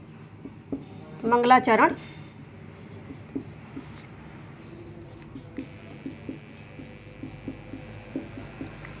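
Writing on a board or paper during a Sanskrit lesson, a short burst of scratchy strokes followed by soft, sparse taps and rubs under quiet background hum.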